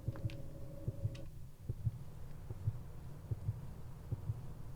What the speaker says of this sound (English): The heartbeat in the under sound is really jarring, and I am uncomfy.